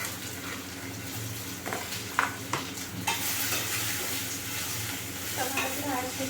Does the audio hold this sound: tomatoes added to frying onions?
yes